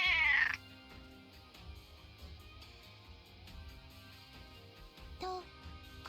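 A cartoonish cat meow from the video game Digimon Story Cyber Sleuth rings out loudly at the start, with a second, softer meow near the end, both over quiet looping game music.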